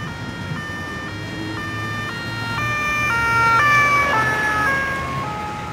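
A wailing two-tone emergency siren grows louder as it approaches and then falls in pitch as it passes, with a low traffic rumble underneath.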